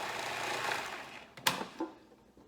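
A kitchen blender pulses a yogurt and herb sauce, giving a close, steady whir that cuts out sharply, followed by a couple of faint knocks and rattles.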